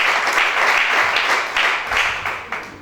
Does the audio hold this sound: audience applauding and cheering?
yes